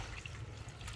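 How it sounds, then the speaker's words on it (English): Water poured off the top of a gold pan while panning pay dirt for gold, a soft steady trickle and slosh running for about a second, close and quiet. "You pour off your excess"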